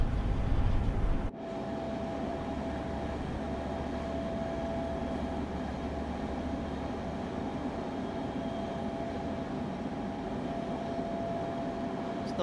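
A Long Island Railroad commuter train in Train Sim World runs with a steady, even rumble and a faint tonal whine, starting with a brief louder burst and then holding a constant level.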